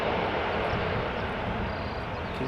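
Airliner touching down at Schiphol Airport with idle reverse thrust, a steady, broad jet roar held at constant loudness from a moderate distance, with no voices over it.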